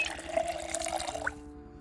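Water trickles and splashes as canteens are filled in the video game Project Zomboid, a short close burst of running liquid that stops abruptly.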